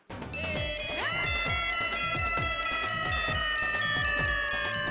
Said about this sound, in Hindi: माय डियर बेना का फोन